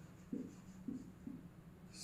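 Writing on a board during a maths class: a few short, soft scraping strokes in an uneven rhythm, faint and close, against a quiet room hum.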